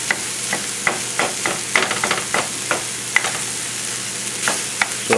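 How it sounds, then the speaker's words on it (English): Sausage frying in a pan for stuffed peppers, a loud continuous sizzle with repeated sharp scraping taps as a utensil breaks the meat into small pieces, close and steady. "you want to break up the sausage to small little pieces"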